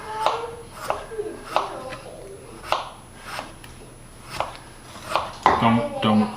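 Kitchen knife slicing through a long potato while making meatloaf, with repeated crisp chopping strikes on a board in a steady rhythm, close by, and people talking over it.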